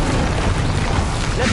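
A loud, dense whooshing burst of the Incendio fire spell in Hogwarts Legacy roars steadily throughout, close and continuous with no gaps.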